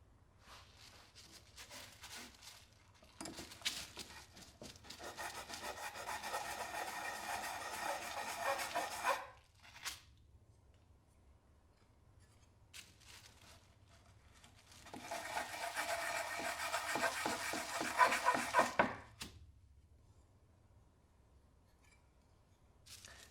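Sandpaper wrapped around a small wooden block rubbing back and forth over quadcopter main plates, two long stretches of steady scratchy scraping separated by a quiet pause, close and fairly soft.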